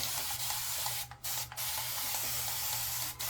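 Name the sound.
water spraying to wet head before shave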